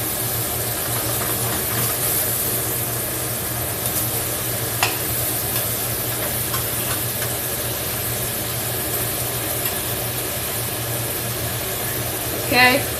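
Burgers sizzle and fry steadily on a hot cooking surface while a spatula scrapes and flips them, with a faint metallic clink near the end; a person talks intermittently over the continuous close frying.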